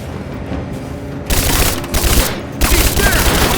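Video game gunfire in Rise of the Tomb Raider: loud bursts of rapid automatic fire and booms come in waves after a quieter opening, dense and close.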